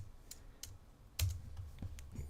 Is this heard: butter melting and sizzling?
no